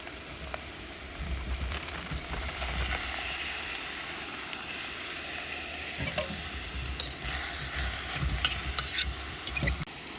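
Seasoned steak cubes hit a pot in a Yugoslavian army mess kit, setting off a steady hissing sizzle with clicks and light metal taps, growing busier toward the end, close up and without talk.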